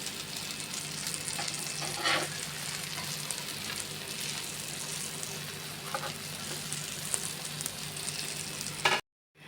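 Four slices of bread pizza fry in a pan over medium flame, giving off a steady, moderately quiet sizzle with faint crackles before it cuts out at the end.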